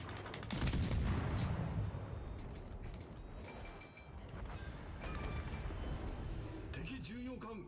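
Warship guns boom and rumble in a World of Warships Legends naval battle, heavy blasts and rolling explosions rising and fading amid clanking mechanisms, with someone talking over the action.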